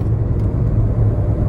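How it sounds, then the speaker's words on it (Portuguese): A VW Taos car rounds a curve, with a steady low engine and road rumble heard from inside the cabin, unbroken for a second and a half. "O carro ganha velocidade mesmo em uma lomba."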